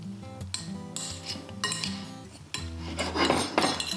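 A spoon scrapes and knocks against a bowl as strawberries, fruit and lime juice are stirred together, giving close, irregular clinks and rubbing sounds with no talking.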